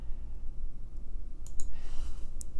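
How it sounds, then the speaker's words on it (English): Quick mouse clicks while placing points with a pen tool in design software, a few sharp dry taps clustered near the end over faint room hum. "so I can just start clicking."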